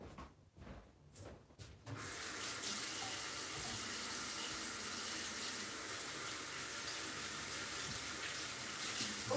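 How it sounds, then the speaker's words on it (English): Hands being washed under a running tap at a sink, a steady close rush of water starting abruptly after a couple of seconds of quieter handling and continuing unbroken to the end. "let me wash my dirty hands"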